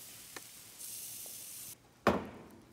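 Thin pork tenderloin on a grate over hot charcoal gives a steady soft hiss that swells for a moment, then a sharp, loud clattering burst near the end that fades out.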